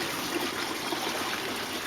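Water draining around the perimeter of an aquaponics grow bed, a steady close trickle and splash that runs unbroken and even, with no talking.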